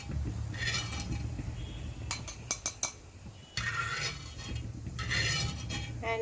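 Crisp fried ginger being shifted into a separate bowl, with a quick burst of metal spoon clinks and scrapes against cookware over a steady background hum, close by and without talk.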